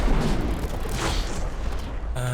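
A booming explosion in the sci-fi shooter game Cosmic Dawn, a loud, broad blast that swells and decays over a couple of seconds, heard close up without talk.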